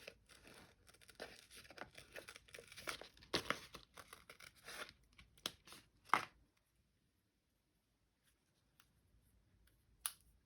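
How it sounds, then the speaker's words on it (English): Scissors snip paper leaves out of a sheet for a junk journal. Crisp crinkling and cutting noises come close and irregular, then thin out into quiet with one last sharp snip. "We're going to use some of these leaves. And just going to cut them out and see how it goes"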